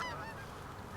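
A flock of geese honks overhead in a quick burst of calls during a hunt, fairly faint and distant.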